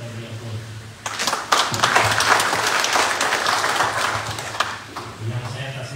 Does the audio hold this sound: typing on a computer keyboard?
no